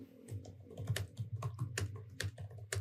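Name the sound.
computer keyboard typing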